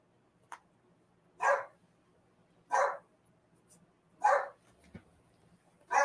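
A dog barks indoors at night, a few sharp, moderately distant woofs spaced roughly a second apart against a quiet room, with no talking over them.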